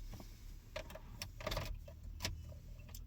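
Keys jangle briefly as a car key goes into the ignition of a Maruti Suzuki, a few light metallic clinks over a low idle hum, close by and fairly quiet.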